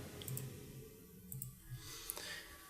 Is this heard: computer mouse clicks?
yes